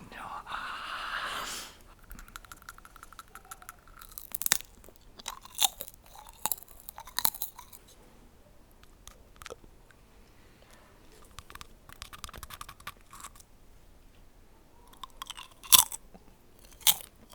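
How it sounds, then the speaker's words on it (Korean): Crunchy biting and chewing on food during a late-night Korean ASMR session, sharp close crackles coming in irregular bursts with quiet gaps, with soft whispered talk between bites. "저는 갉아 먹어보겠습니다"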